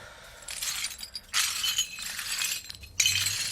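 Shards of a broken drinking glass clinking and scraping as they are gathered up indoors, with light tinkling bursts coming in irregular stretches, close and fairly quiet, with no talking.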